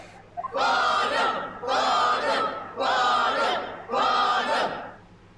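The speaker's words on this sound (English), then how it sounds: "I love a cheering crowd" A courtroom crowd in Professor Layton vs. Phoenix Wright chanting in four loud rhythmic bursts, many voices shouting together in unison with short gaps between each cry.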